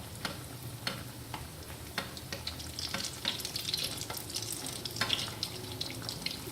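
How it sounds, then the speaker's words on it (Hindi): Shami kababs sizzle and fry steadily in hot oil in a pan, a dense continuous crackle with scattered sharper pops, close and alone without voices. "इसी तरह मैं सारे कबाब ऑयल में डालती हूँ। पैन में मैंने कबाब डाल दिए हैं।"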